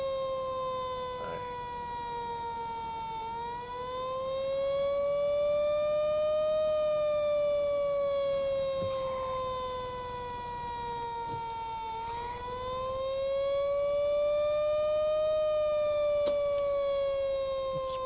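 An antique fire truck siren in the Stormworks video game wails steadily, its pitch rising and falling in slow cycles, loud and continuous throughout.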